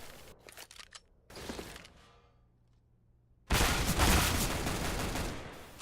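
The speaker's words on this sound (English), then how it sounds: "He had armor, as you can hear from the dink sounds." Loud rapid gunfire in a competitive shooter, with armor-hit dinks heard as the shots strike an armored enemy; a few sharp shots and a ringing tail come first, then a dense, sustained burst closes it out.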